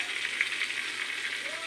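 Milkfish (bangus) fries in a pan, a soft, even crackling sizzle with small pops, fairly quiet and close, continuing without a break.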